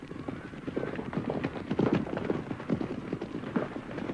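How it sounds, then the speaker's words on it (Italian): A line of horses trots across open countryside, their hooves clopping in a steady, uneven rhythm at moderate distance with no speech. "la fila di cavalli trottava attraverso la campagna"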